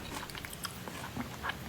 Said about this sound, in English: Oh, the chewing!